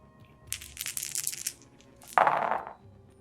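Dice rattling and tumbling during a Kingdom Death: Monster board game session, a clattering burst of several dice followed by a second sharp roll and skitter, close and clear.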